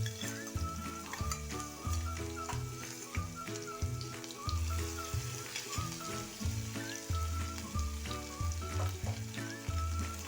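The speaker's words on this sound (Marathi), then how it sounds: "लसूण थोडा वेळ परतून झाला" Garlic fries in hot oil with cumin and asafoetida as tempering, giving a close, busy sizzle and crackle. Rhythmic stirring scrapes repeat throughout, with no talking.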